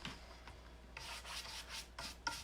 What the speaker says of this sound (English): then sand it a little